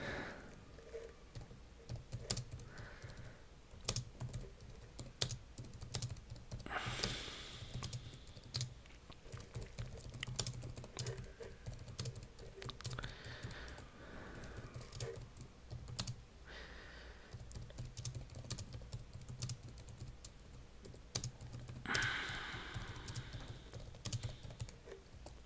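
Steady typing on a computer keyboard, with rapid, irregular key clicks and occasional heavier strokes running continuously at close range, with no talking.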